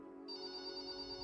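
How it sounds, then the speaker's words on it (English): A telephone rings as a sound effect, a steady electronic tone that begins abruptly and holds for about a second, soft and close with no speech. "Just then, Dr. Liriano's phone rang."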